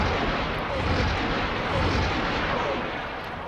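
Big guns firing on a Neutron Star Cruiser in the space game X4, a dense, continuous loud roar of heavy weapon fire and rumbling blasts with no break.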